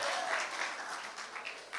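A church congregation applauds during a Sunday sermon: a steady wash of many hands clapping at moderate distance that thins slightly and swells again near the end.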